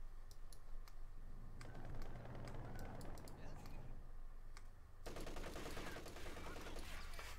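Rapid bursts of assault rifle fire from infantry in the World War II strategy game Company of Heroes 2, crackling as a steady fusillade under constant battle noise while a voice talks over it.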